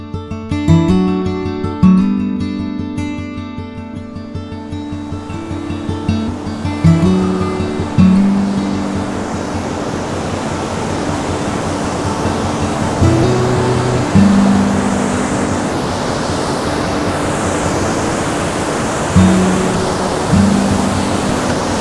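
A Wisconsin waterfall in spring roars as a steady, broad rush of falling water, with music playing over it during the opening seconds.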